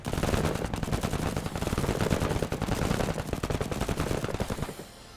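Sustained rapid gunfire in the video game MENACE, rounds striking armor: a dense, loud, continuous rattle of shots for several seconds that drops away abruptly at the end, with no talk.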